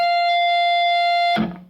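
A distorted electric guitar holds a single sustained, buzzing note that ends with an abrupt shift as the pinky slides up one fret.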